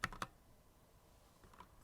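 Typing on a computer keyboard: a quick cluster of three or four soft key clicks at the start, then a pause and a couple more faint taps, close and quiet with no voices.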